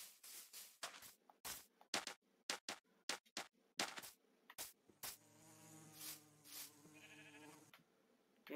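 Buzzing of a baby bee in the video game Minecraft, a steady droning hum in the second half that follows a run of sharp, regular clicks and taps.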